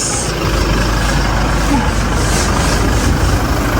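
A vehicle engine idles close by with a steady low rumble and a faint hiss over it, holding constant for a few seconds.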